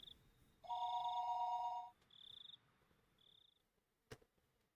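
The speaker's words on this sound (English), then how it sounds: "the phone began to ring again." In a visual novel game, a telephone rings in short electronic trills: one long ring, then two shorter bursts, and a sharp click near the end. It sounds clean and quiet, with no talking.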